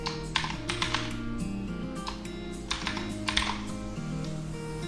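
Rapid computer keyboard typing while wallet details are entered for StarCash coin mining setup, steady clicking keystrokes in uneven bursts over a low background hum, close and fairly loud, with no one talking.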